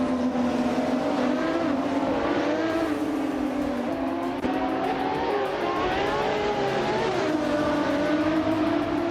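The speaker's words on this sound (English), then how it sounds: "Dale Earnhardt is driving a 1995 McLaren F1LM and is currently in 4th place" A 1995 McLaren F1 LM race car in a racing video game, engine droning loudly and steadily with rising and falling revs as it races, other cars faintly audible alongside.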